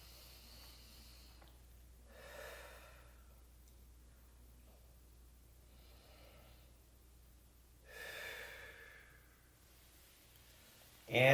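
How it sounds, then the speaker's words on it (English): Slow, deep yoga breaths, soft airy inhales and exhales spaced several seconds apart, sound close and gentle against a quiet room. "Deep inhale, and then using the exhale to draw the chest down"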